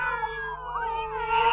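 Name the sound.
cat yowling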